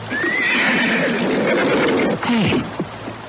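A horse whinnies loudly and close in a long, wavering neigh, followed by a shorter snorting cry, with faint hoof sounds and no talk.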